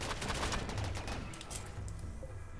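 Rapid gunfire in RimWorld as colonists shoot at a turret, a dense burst of overlapping shots that thins out and continues steadily throughout.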